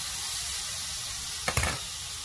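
A ribeye steak is flipped in a hot pan, setting off a sudden burst of loud, crackling sizzle after a steady background hiss of frying.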